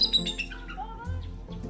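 Birds chirping and squawking in short bright calls, a few quick tweets and a rising call close by, with a low hum underneath.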